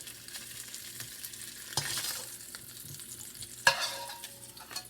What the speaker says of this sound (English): Now I'm going to put some of my veggies in this same oil because you want the flavor of your sausage in this oil.